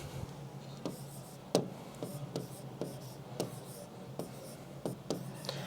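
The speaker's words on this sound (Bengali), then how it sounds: "দেখো, আমি লিখে দিই।" Handwriting during a Bengali-language medical admission lecture: scratchy pen or marker strokes in short bursts with pauses, against a low steady room hum and no talking.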